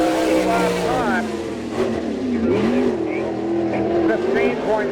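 Super Sprint race car, the Jerry Carl-owned 17K driven by Greg Clark, howling around Lincoln Speedway in Abbottstown, Pennsylvania, its loud engine rising and falling as it circles, under a track announcer's continuous commentary.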